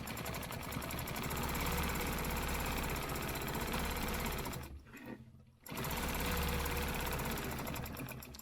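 A sewing machine runs steadily, stitching a line across a quilt in a fast, even mechanical whir. It stops briefly for about a second, then starts up again at the same pace.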